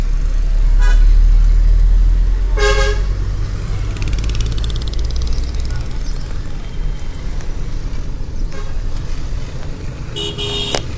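Heavy road traffic on a damaged street in Karachi, a loud continuous rumble of cars and trucks with several car horns tooting near and far through the scene.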